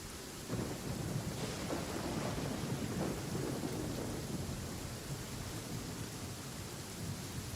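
Thunder and storm noise from the video game Genshin Impact, with lightning strikes rumbling low and steady through rain-like hiss for several seconds, nearby and fairly loud, with no talking.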